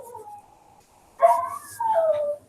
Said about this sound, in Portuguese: Isso aí, meu cachorro tá cantando.